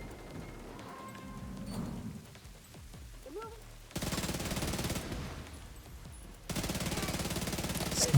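Video game gunfire in a sniper encounter, with scattered shots early on, then two loud sustained bursts of rapid fire, close and dense.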